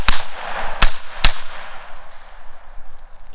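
A Bushmaster ACR rifle chambered in 300 Blackout fires supersonic rounds at close range, three sharp, loud shots spaced unevenly, each followed by a ringing outdoor echo that slowly decays.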